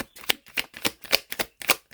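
Playing cards riffled and shuffled by hand in steady bursts, about seven quick crisp flutters within two seconds, close and fairly loud with short pauses between, no voices.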